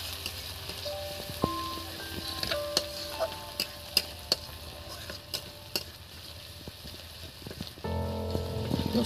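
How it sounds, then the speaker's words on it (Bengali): Garlic crackles and sizzles in hot oil with a steady, fairly close hiss, while a utensil clinks and scrapes against the pan at irregular moments; the frying grows louder near the end. "রসুন তেলের মধ্যে পড়লেই একদম দেখুন বোঝা যায় বন্ধুরা, রান্না হচ্ছে।"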